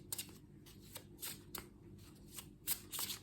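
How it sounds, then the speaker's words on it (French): Fairy oracle cards being shuffled by hand, a series of close, crisp riffling and slapping bursts repeating in an uneven rhythm, fairly quiet with no speech. "maintenant on va prendre une carte de l'oracle des fées pour vous les balances"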